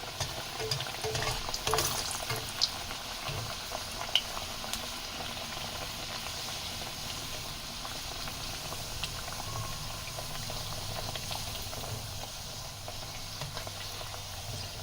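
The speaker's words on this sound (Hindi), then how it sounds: "स्लो स्लो फ्लेम पे आपको कचौरी अच्छे से इसको फ्राई करनी है।" Dal kachori fries in hot oil over a low flame, making a steady, dense sizzle with crackling and bubbling that lasts throughout at an even level. No voices are heard.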